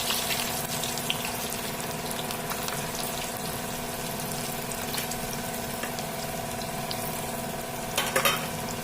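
Sliced onions for Lucknow-style chicken biryani sizzle hard in deep hot oil on a high flame, a dense, continuous crackling fry close up, with a brief clatter of stirring near the end.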